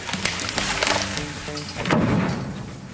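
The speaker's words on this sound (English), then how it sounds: "Trees crashing into large homes, small sheds, and whatever else." A tree falls onto a house or shed, giving a loud close burst of cracking, splintering wood followed by a heavy crashing impact with rustling debris.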